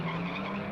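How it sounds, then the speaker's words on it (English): Cars revving their engines on a Thunderbirds soundtrack, a dense, continuous roar of motors and tire noise filling the short moment without pause. "The soundtrack might suggest that you're looking at a shot of lots of cars revving their engines"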